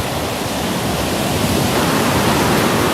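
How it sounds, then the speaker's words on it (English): Rough sea waves rolling in on a beach at Clacton, a steady, loud, bassy wash of surf that keeps going without a break, with no talk. "Some nice waves rolling in, nice and bassy."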